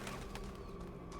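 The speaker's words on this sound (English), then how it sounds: "Pigeons." Pigeons coo softly within a continuous ambient bed in the video game The Talos Principle 2, a brief murmuring call under steady background tone.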